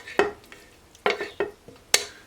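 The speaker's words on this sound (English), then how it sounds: "just transfer my vegetables directly into my pan" Chopped vegetables being tipped into a frying pan for a frittata make several sharp clattering scrapes and knocks, spaced irregularly with brief sizzling between them, close and fairly loud with no talking.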